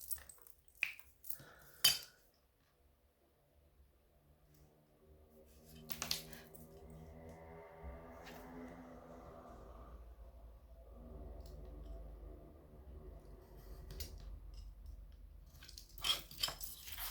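A craft knife slices through a paper pouch in a few brief, crisp scraping strokes spread apart by quiet stretches, with a soft low hum in between.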